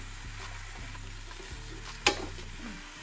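Filet mignon and pork chops sear on a Ninja Foodi Grill with a steady close sizzle and faint crackle, a single sharp clack of handling cutting in partway, no talk.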